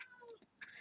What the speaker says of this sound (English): He's my cat, one of my cats, and his name's Arnie, and he wants attention right now.